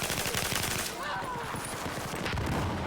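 Suppressed M249 light machine gun firing in Battlefield 4, a steady rapid rattle of muffled shots running nearly continuously, dense and fairly loud, with a brief dip around the middle before the burst resumes.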